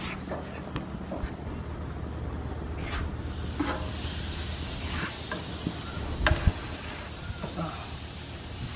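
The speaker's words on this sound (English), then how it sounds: "Obviously we got our steaks nice and searing." Oiled steaks sear on a hot grill with small flare-ups, giving a steady close sizzle and hiss with a few sharper crackles and pops.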